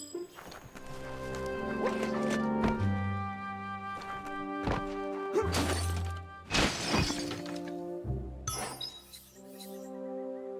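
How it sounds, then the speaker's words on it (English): A box is smashed apart in the video game Biomutant, with a cluster of sharp cracking, clinking breaks and thuds set against sustained game music, fairly close and moderately loud. "You shouldn't worry about smashing up the box"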